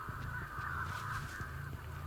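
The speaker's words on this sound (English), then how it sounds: "you hear those crows going off there" Crows cawing in the video game Dead by Daylight, a string of harsh, rapid calls over a steady droning game ambience, moderately loud with no talking.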